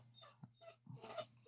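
A dog whimpering and whining in short, high, faint bursts indoors, several thin cries with a brief growly yip between them, close by with no talking.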